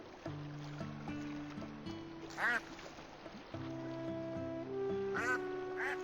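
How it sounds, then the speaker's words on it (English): A duck quacks twice in the Teddys Haven video game, short nasal calls over a steady game music loop with harmonic tones, the quacks standing out briefly near the middle and end. "There's mama duck."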